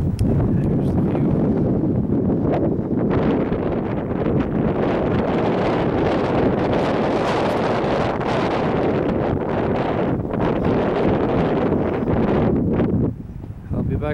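Strong wind blows outdoors at a scenic edge, roaring and buffeting the microphone continuously for the whole stretch, loud and close, easing only briefly near the end.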